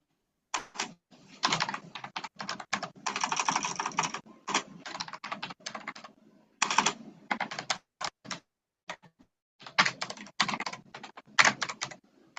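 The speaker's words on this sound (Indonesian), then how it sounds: "Kok seru banget tuh keyboard siapa gitu" Someone types loudly on a computer keyboard during an online meeting. The keystrokes come close and clattery in irregular bursts and flurries, with short pauses between them.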